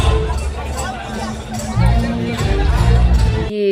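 Busy fairground crowd, a dense continuous babble of many voices close around, with louder nearby talk rising over the hubbub.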